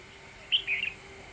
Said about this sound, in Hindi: बोल रही है चिड़िया।